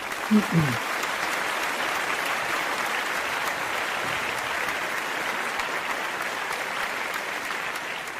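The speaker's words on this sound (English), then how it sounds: "I thought that deserved applause" Steady applause from a crowd, sustained and even throughout, with a brief low murmur at the very start.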